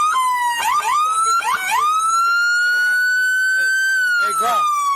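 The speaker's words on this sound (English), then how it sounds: "Hey, Grok, kill the sirens for me." A police car siren wails loud and close, holding a long rising-and-falling tone while shouting voices break in over it.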